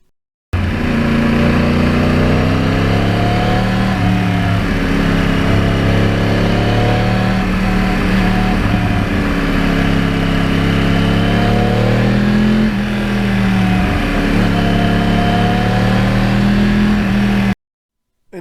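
A 2009 Yamaha R1 crossplane motorcycle ridden continuously, its engine loud and close, steady drone rising and falling through gear changes and throttle swells, no voices.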